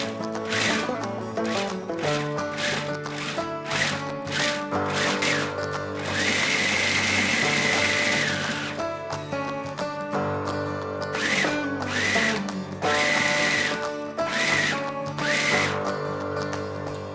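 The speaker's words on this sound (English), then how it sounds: "Pulse it in the food processor for a little." A food processor pulses raisins for no-bake energy bites, giving repeated whirring motor bursts with a rattling, grinding edge, loud and close, with no talk.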